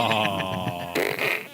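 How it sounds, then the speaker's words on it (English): A toy fart gun lets out a long, buzzy, sputtering blast that breaks off abruptly, followed by a second rougher burst. It is loud and close, with no talking over it. "The fart gun is my favorite."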